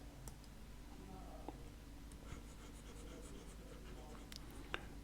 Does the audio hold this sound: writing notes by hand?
yes